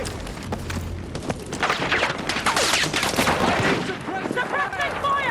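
Dense, loud suppressing gunfire crackles through a Battlefield 6 campaign battle as rapid automatic bursts and booms, with shouted voices mixed in.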